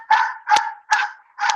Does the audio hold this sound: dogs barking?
yes